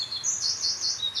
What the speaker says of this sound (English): As a blackbird agrees with you.